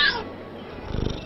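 A pet kitty in the Hogwarts Mystery video game gives a brief meow, bright and close at the start and then trailing into a low rumbling purr, with no speech.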